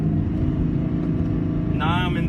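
A car engine hums steadily while cruising at about 40 mph, held in a low gear at roughly 3,000 RPM with gear changes between second, third and fourth, under continuous talking.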